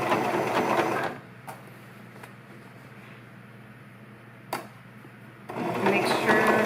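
Sewing machine stitching a chair pouch, with short bursts of rapid mechanical whirring at the start and end and a quieter pause in between broken by a couple of faint clicks.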